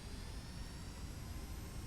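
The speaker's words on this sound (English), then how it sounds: "So now we can hear the beautiful roar of the engines" Boeing 757 jet engines spooling up in a flight simulator game make a steady, faint, broad roar with a thin high whine, continuous and without talk.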